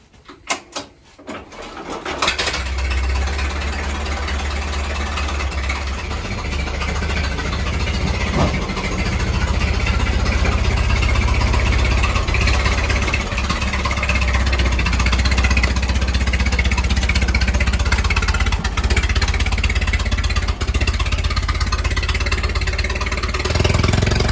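A 1918 Fordson vintage tractor engine runs steadily after a brief start, a loud, continuous low chugging that holds near and unbroken throughout with no voices.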